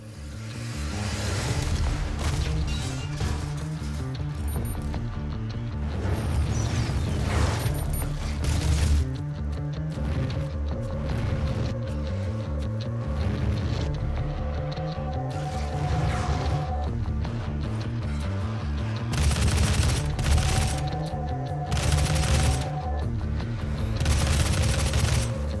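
Rocket launcher blasts and explosions in the 2016 Doom shooter game, a dense, loud barrage of booming hits and rumbling detonations repeating steadily over a heavy low-end soundtrack with no talking.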